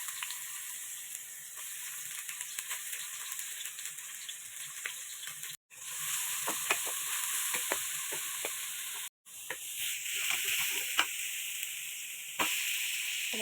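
Garlic sizzles steadily in a little cooking oil, a dense continuous crackle and hiss with scattered pops and two brief dropouts, heard alone at close range while sautéing string beans with sweet potato leaves.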